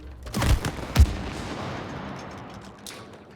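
Gunfire in the It Takes Two video game, with two sharp booming shots about half a second apart, then a fading rumbling tail and a fainter burst near the end, with no talking.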